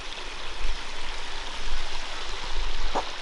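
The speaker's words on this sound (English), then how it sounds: "let's keep going on this peaceful journey to a little creek they have in this small town" A small creek in an 1830s American ghost town flows with a steady, hissing rush of water, close and continuous, with a brief faint knock near the end.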